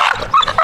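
A 9-year-old pit bull named Rocko barks in a quick, loud burst of close yips and whining barks during summer work in Texas.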